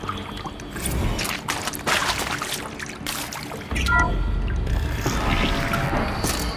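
Water draining from a dam in the video game Horizon Zero Dawn, a steady rushing pour and trickle that swells louder partway through, with no talk.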